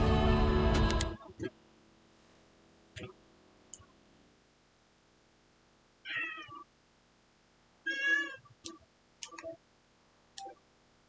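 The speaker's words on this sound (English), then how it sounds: "Maybe I can let my cat in who's crying at the door." A house cat cries at the door in several separate meows spread across the stretch, each fairly clear against a quiet room, after a loud burst of noise at the start.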